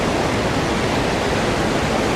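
A strong mountain stream in Dumnaga Valley, Neelam Valley, Kashmir, rushing hard as a loud, continuous, broadband roar of water with no pauses and no voices.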